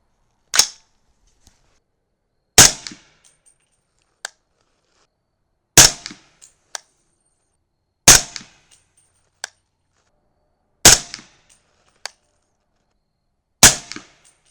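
Gunshots fired at a target: six sharp, loud cracks spaced a couple of seconds apart, with faint small clicks and taps between them and no talking.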